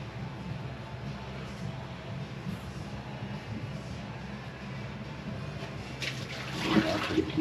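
Water running steadily from a tap while something is rinsed out, a soft continuous wash that swells and splashes more near the end.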